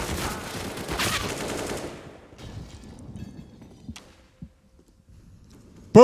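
Counter-Strike match on the Train map: a burst of rapid in-game gunfire dies away into quiet, then a few isolated shots and a sharp close bang right at the end. No speech.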